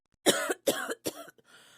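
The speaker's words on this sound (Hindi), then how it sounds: "तभी बाहर से माँ की खांसने की आवाज आती है" A woman coughs three times in quick succession, close by and fairly loud, followed by a faint breathy trailing sound.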